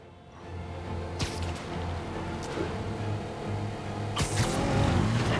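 A car races along during a chase in Marvel's Spider-Man on PS4, with a steady engine drone and road rumble, two sharp whooshing swings cutting through, building slightly louder toward the end.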